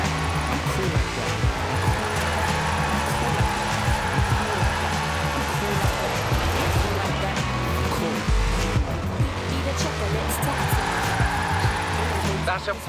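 A Formula Drift car sliding around Fortune Island in Forza Horizon 4, its engine roaring and pitch sweeping up and down over a long continuous stretch, with tire squeal mixed in and a voice talking over it.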